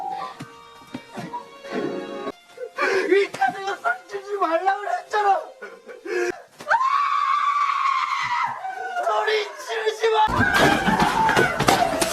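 A girl screams in the film Forgotten. Loud, drawn-out shrieks and frightened cries from a voice mix with other vocal sounds and end in a sustained high scream.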